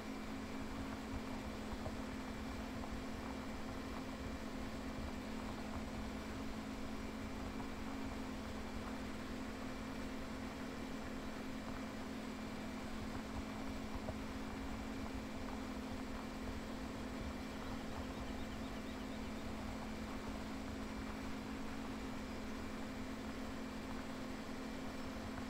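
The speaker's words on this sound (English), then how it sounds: "Checking in our disc ripper down here." In Farming Simulator 2017, a disc ripper tills a corn field, heard as a steady, unbroken mechanical drone and hum of the tractor and implement, constant and moderately distant, with no talking.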